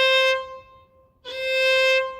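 Sustained bowed violin notes played only on the A string, two long tones separated by a brief gap, clear and close with no talking.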